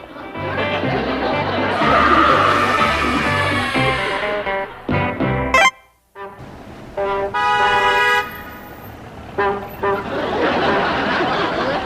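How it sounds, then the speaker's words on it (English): An old car horn honks in short bursts over a running engine, with people chattering and laughing nearby. "must you honk that horn?"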